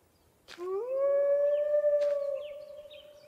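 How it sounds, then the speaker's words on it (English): A single long wolf howl from the survival video game Hold Your Own rises into a sustained clear tone and then fades, with sharp game clicks at the start and partway through. "But I hear a wolf, and I don't see him."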